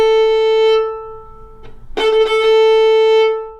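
Fiddle played on the open A string with the cut technique, a sustained bowed note broken by quick rhythmic ornament flicks in the middle, clear and close with no talking.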